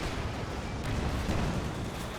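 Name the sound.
mortar fire in the video game Company of Heroes 2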